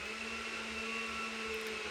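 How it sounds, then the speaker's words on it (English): A kitchen blender runs continuously while ginger juice is made, a steady whirring hum with a sustained motor tone at constant level throughout, heard without speech. "If you hear a blender,"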